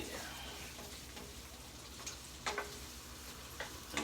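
Shrimp frying in a pan, a faint steady sizzle with occasional soft clicks and pops, heard alone without talk.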